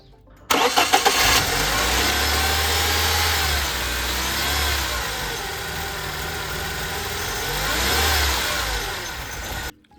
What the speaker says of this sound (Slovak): auto konečne štartuje